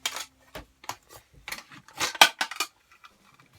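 Metal clinks and rattles from a Trangia mess kit pot and its little handle being handled, a string of short bright clanks and scrapes of varying loudness, close and with no talk.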